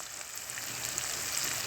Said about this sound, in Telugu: ఇవి మాత్రం ఒక 2 నిమిషాలు మాత్రం బాగా వేగాలి